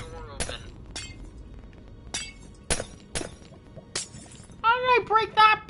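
Repeated crisp glass-block shattering effects in the Minecraft video game crack out in an irregular series of about seven bursts, with a person talking near the end.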